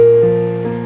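A single piano B flat note struck loudly and left to ring, with a second softer note entering under it as it decays.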